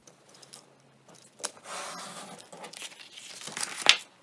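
Scissors cut through a folded paper folder to make a wallet pattern, giving soft, close crinkling and rasping snips in short bursts that end with a sharper snap.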